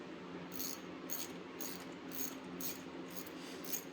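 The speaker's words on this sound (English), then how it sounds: "Notice I use a ratchet on all this" Hand ratchet clicking as bolts are turned on a 2022 Suzuki DRZ400SM during a build, with seven or eight short bursts of clicks in an even rhythm, close up over a steady background hum.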